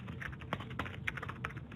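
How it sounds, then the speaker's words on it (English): Quiet, steady typing on a computer keyboard, with quick irregular key clicks through the whole moment and no talking. "I'm typing the commands pretty much the same that I did in the interactive interpreter down below"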